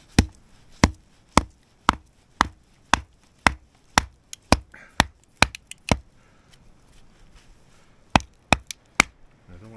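A log is chopped against a rock on snowy ground, sharp hard blows landing in a steady rhythm roughly every half second, then a brief pause before a final few strikes; the sound is close and loud, with no talking.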